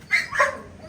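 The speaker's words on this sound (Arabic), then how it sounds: "في كلب تاني جوه وفي كلاب كبيره" A dog gives a short pair of high yelping barks up close in a home where other dogs are kept, brief and sharp with faint background noise.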